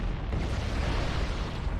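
Explosions as life pods are destroyed in a Halo video game, a dense continuous rumbling roar of blasts, loud and steady without clear separate hits.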